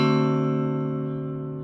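A single guitar diminished chord rings out and sustains, its strings blending into a steady, slowly fading tone with no other sounds around it.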